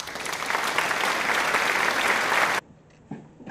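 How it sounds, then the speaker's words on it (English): Steady, dense applause from a theater audience fills the first two and a half seconds, then cuts off abruptly into near silence before a faint sound returns. "this is where Molly adds in clapping sounds."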